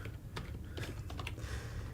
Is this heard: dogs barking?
no